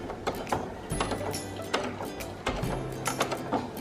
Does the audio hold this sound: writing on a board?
no